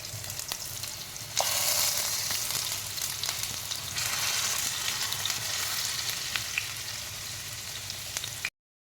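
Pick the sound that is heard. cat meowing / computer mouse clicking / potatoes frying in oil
potatoes frying in oil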